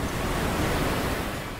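Ocean surf off the coast of County Clare, Ireland, a steady broad wash of breaking waves and rushing water, loud and close with no voices.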